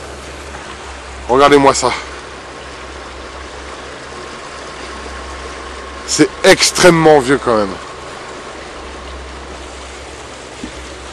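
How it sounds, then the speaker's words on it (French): Strong water flow rushing through an extremely old dam mechanism, heard as a steady, loud wash of noise throughout, while someone briefly speaks French over it twice. "Ceci, c'est le mécanisme du barrage. C'est extrêmement vieux. Et il y a un gros débit d'eau."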